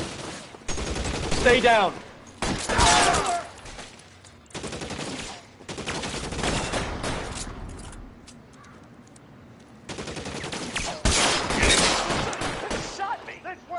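Bursts of gunfire in a city street shootout, with rapid volleys and single shots in clusters, loud and close, while voices shout over the shooting.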